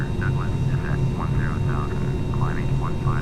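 A Douglas World Cruiser in a flight simulator drones with a steady, loud engine roar throughout, while a voice talks over it in short phrases.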